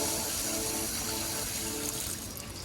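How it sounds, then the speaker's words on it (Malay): Water draining from an ornamental fish aquarium, a dense rushing, gurgling flow that stays loud throughout and eases slightly at the end, with no voices. "Dan saya akan buangkan air."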